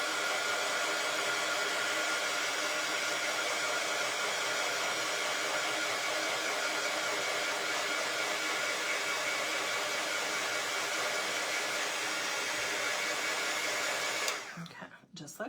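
A hair dryer blows steadily at close range over a wooden church birdhouse kit, a loud and constant whoosh that runs unbroken for about fourteen seconds and then cuts off, followed by faint handling noise.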